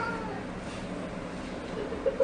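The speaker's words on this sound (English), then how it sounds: "Studio cat. I stepped on the cat." A studio cat that has just been stepped on gives faint, strained meows against a noisy room background, ending in a short, sharper cry.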